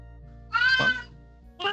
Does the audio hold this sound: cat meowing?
yes